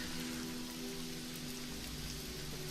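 Steady rain patters across a fantasy setting in the Shadow of the Demon world, a continuous even wash of falling drops with a faint low hum underneath, no voices.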